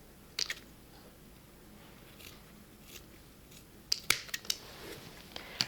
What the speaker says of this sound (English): I'm going to cut 4 little small pieces, maybe even more than 4 because we don't want them too thick